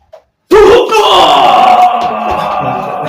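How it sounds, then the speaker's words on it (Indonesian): A sudden loud burst of screaming and shouting voices erupts behind the action on a film set, sustained and chaotic after a moment of near silence. "Di belakang ada yang teriak."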